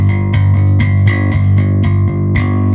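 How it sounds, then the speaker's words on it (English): A bass guitar plays a G at the third fret of the E string, plucked with a single finger in an alternating in-out motion, giving an even, steady run of about ten close, loud notes. "if I fret a G here at the 3rd fret of the E string and pluck with a normal rest stroke"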